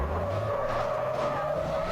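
Bus crashing and skidding in a video game, a continuous dense engine roar with tire screech running steadily throughout, loud and close with no talking.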